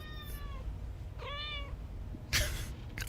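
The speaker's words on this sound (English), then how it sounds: "My cat is very insistent that she needs my attention" A pet cat meows insistently for attention: two short rising meows close by, then a louder burst of noise near the end, no speech.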